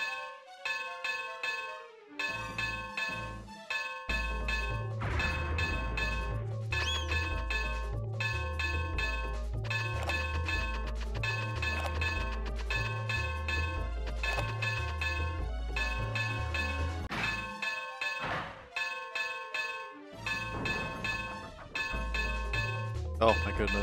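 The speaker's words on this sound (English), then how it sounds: "Boy, that bell is just pounding inside my head right now." A hand-cranked bell clangs over and over in a steady, pounding rhythm, loud and close, its ringing overtones layered under a repeating low thumping pattern throughout.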